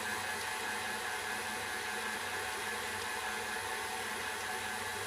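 Stand mixer at medium speed kneading cheese bread dough, a steady, loud whirring motor drone with constant broadband noise and a faint rhythmic churn, unbroken throughout.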